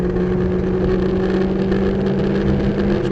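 Race car engine held at full throttle on the Sebring circuit, a steady, loud, sustained drone with a constant pitch, heard close from inside the car with no talk over it.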